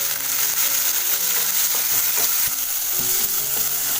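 Curry leaves, onion, garlic and cumin frying in a pan, a steady loud sizzle with crackling spatters and faint stirring throughout, no voices.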